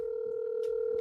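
A telephone dial tone on an outgoing call: one steady, unbroken hum, loud and close, with faint background shuffling and no speech.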